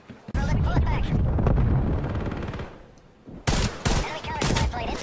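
Bursts of automatic gunfire in the Call of Duty video game, loud rapid fusillades at the start and again near the end, with a brief quieter gap between them.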